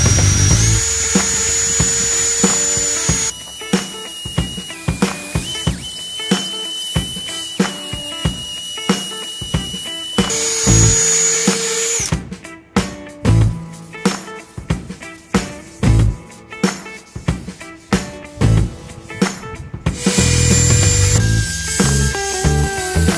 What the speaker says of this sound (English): now just need to buff it with the machine if you have